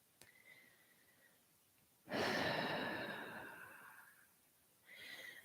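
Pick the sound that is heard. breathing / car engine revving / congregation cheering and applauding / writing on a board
breathing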